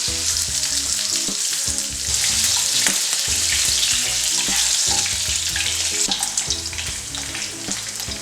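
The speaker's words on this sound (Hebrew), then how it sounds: "ממיסים את השומן על האש מאוד נמוכה, כי המטרה שלי להוציא כמה שיותר שומן נוזלי מתוכו ולא לשרוף אותו" Lamb fat melting over very low heat in a pan, giving a steady, close sizzle and crackle that runs continuously with small bursts and stirring noises throughout.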